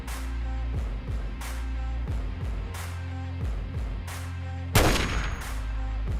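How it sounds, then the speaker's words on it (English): A sniper rifle shot sound effect in the Fallout Wasteland Warfare tabletop game: one loud, sharp crack bursts out near the end over a steady backdrop of rhythmic thumping hits, close and clear with no talk. "So using her sniper rifle, long distance into the closest raider."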